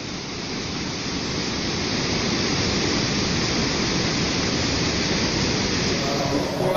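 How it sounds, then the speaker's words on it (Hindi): Dam water pours out through a damaged spillway gate in a steady, dense roar of rushing water that holds at an even, loud level throughout. "स्पिलवे गेट क्षतिग्रस्त होने के कारण डैम का पानी बह जाता है"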